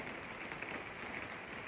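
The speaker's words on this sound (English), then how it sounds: "it's raining" Rain falls outside while listeners shelter indoors, a soft steady patter heard faintly at a distance with no voices.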